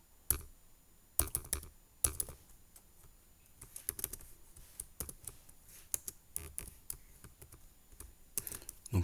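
Fingers typing a Linux cp command on a computer keyboard, bursts of quick close key clicks with brief pauses and a few louder thumps, no talking.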